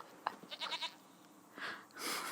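Goat in the video game The Witcher 3 bleating in a few short, nasal calls, quiet and close, with brief soft background sounds between them.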